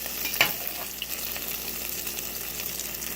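Egg foo yung fries in a pan with a steady, close sizzle and crackle, plus a brief scrape of the spatula early on and no talking.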